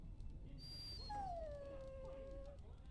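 A dog in the fantasy video game Dragon Age Origins lets out a single drawn-out, falling whimper over a low, rumbling ambient backdrop, with no talking.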